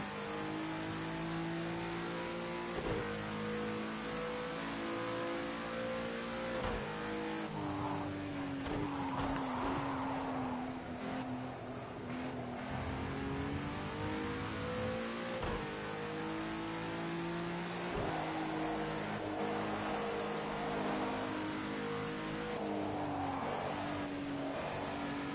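Race car engines rev and shift continuously in a racing video game, a steady buzzing drone that rises and falls through gear changes for the whole stretch, with no talking.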